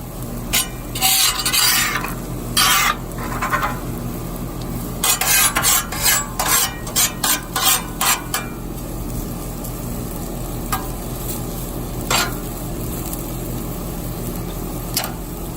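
Onions and potatoes fry on an outdoor griddle with a steady sizzle, broken by bursts of scraping and turning from a metal spatula. No one speaks.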